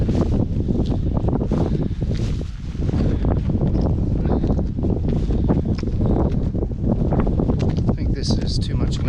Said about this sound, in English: I think this is too much wind here